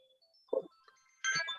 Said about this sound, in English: And somebody's phone is ringing.